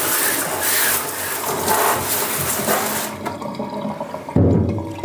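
Tap water runs in a steady broad rush to rinse garden vegetables, loud and close at first, then thins and quiets, ending with a short clunk and splash.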